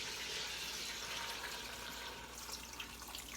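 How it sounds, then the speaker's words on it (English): Water from a handmade pitcher pours steadily into an Instant Pot, a continuous soft gushing splash heard close up and fairly quiet, with no talking. "I've got this beautiful pitcher of water. My mother-in-law made this pitcher. And I'm going to just fill it up to the fill line"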